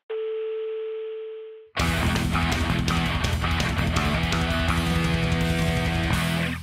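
A steady telephone dial tone hums alone for under two seconds, then cuts off as loud music takes over for the remainder.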